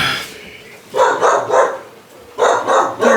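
Several pack dogs bark nearby in two quick clusters of about three sharp barks each, loud and close, separated by a short lull.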